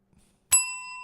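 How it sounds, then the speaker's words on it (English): A single bright bell strikes once and rings on with a sustained, clean metallic tone that slowly fades, heard alone after near-silence. "Sorry, my bell's a little slow today."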